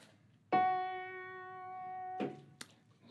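One sustained keyboard note, F sharp above middle C, rings steadily for nearly two seconds with clear harmonics, then cuts off, followed by a brief knock and a click.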